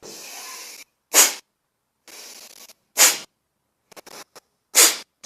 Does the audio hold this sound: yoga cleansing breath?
yes